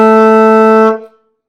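Single held alto saxophone note, F sharp played with the octave key, bright and reedy, loud and close, lasting under a second before cutting off into silence, no voices.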